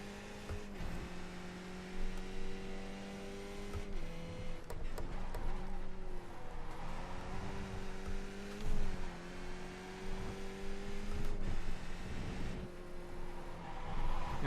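Race cars lapping the Hungaroring in the iRacing sim, Skip Barber class, engines droning and shifting pitch through gear changes and corners, with other cars close by.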